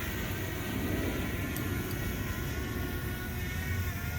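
DJI Mavic Mini drone flying over a park baseball field on new propellers, a steady broadband whir and hum that holds at a constant level throughout, with wind-like noise and no talking.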